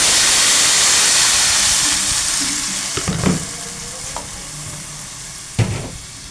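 Rice hits hot oil in a pot with a loud, broad hiss of sizzling that gradually eases and settles, broken by a few scraping stirs and clanks of a spoon against the pot.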